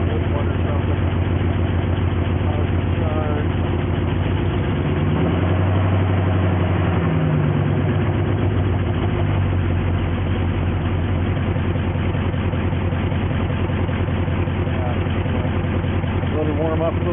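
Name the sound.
1973 Jeep Wagoneer engine idling while warming up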